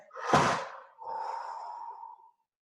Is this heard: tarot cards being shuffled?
no